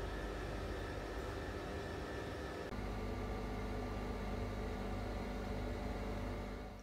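An oven runs while a Maroilles quiche bakes, an even, close fan hum with a faint hiss that stays unbroken throughout, with no voices.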